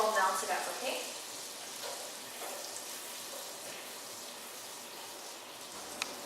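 Butter melting in olive oil in a pan over medium heat for pumpkin soup gives a soft, continuous sizzle and crackle with faint clinks near the start and a small tap at the end.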